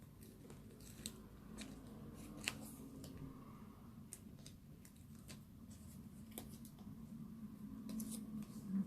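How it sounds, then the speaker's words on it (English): Scissors snipping small bits of tape, faint sharp clicks scattered irregularly over a low steady background hum, close and quiet, no one speaking. "So I'm just going to cut some small bits of tape"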